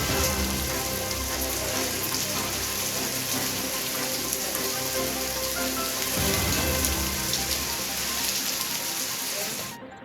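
Heavy rain pours steadily and loudly during a thunderstorm, a dense unbroken hiss of drops on surfaces that continues without pause before cutting off at the very end.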